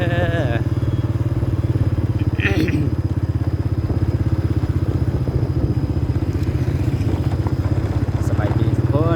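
A motorcycle rides steadily through the town of Tum Lan, its engine a loud, continuous close-up drone with a brief clatter in the middle and faint traffic noise around it.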